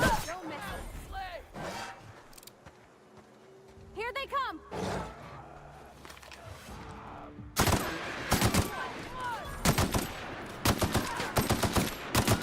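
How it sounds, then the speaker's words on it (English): A heavy weapon fires in The Outer Worlds, loud rapid bursts of gunfire in the second half after a quieter stretch, with a voice talking earlier. "I used my heavy weapon that time."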